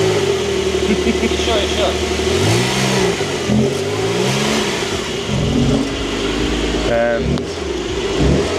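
A convertible car's engine revs in repeated rising and falling bursts at a Russian car dealership, loud and close, with people talking over it.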